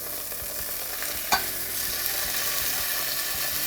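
Chicken pieces, skin side browned, sizzle steadily in a pan just after being turned over, with a sharp clatter of utensil against the pan early on and a constant frying hiss.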